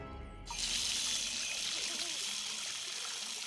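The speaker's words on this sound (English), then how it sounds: "Walter could have sworn he heard water running" Water running steadily from a tap in a large house bathroom, a continuous hiss that starts abruptly after a brief quiet moment and carries on at an even, close level.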